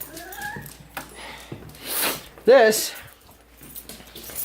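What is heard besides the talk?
dog whimpering, stuck on the bed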